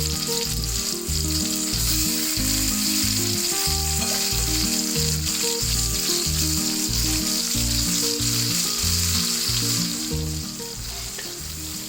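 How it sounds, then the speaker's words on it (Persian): Lamb neck pieces sauté with fried onions in a pan for baghali polo, a steady loud sizzle that holds for the whole stretch, with a faint stirring scrape and no voices. "پیازمون که سرخ شد گوشت گردن رو بهش اضافه میکنیم و قشنگ تفت میدیم"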